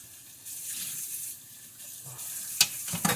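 Pot roast sears in a hot pot, giving a soft steady sizzle with bursts of louder hissing and a few sharp clinks and scrapes near the end, close up with no talking.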